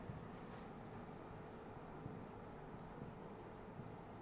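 Chalk or marker writing on a classroom board during a chemistry lecture, repeated brief squeaky strokes spaced through a constant hum, soft and near, with no speech.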